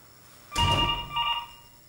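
An intercom telephone on a KNX home system rings twice, two close electronic bell tones of moderate loudness with a brief gap between them, in a quiet room.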